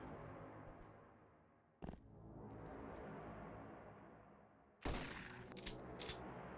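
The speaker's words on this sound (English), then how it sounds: "Great gun, great shotgun." Shotgun blasts from the video game X-piratez: two sharp, loud reports about three seconds apart, each with a short tail, over a steady bed of game background noise.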